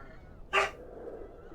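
A pet dog barking indoors at a pizza delivery, a single short sharp bark, moderately loud, standing out over quiet room ambience.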